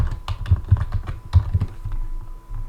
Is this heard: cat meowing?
no